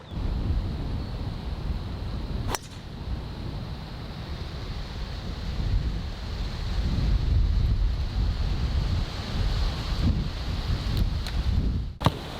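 Wind buffeting across an open golf course, a steady loud rush with low rumbling gusts that swell and fade, plus a couple of sharp brief knocks, no voices.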